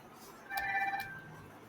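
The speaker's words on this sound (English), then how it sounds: "The phone." A telephone rings once, a short bright electronic trill of about half a second, heard fairly close against quiet room tone with no talking.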